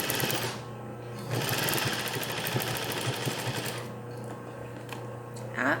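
A sewing machine stitching closed the side of a French seam: a steady mechanical whirring hum of needle strokes that starts, runs continuously for a few seconds, then stops, with a brief pause before a short restart.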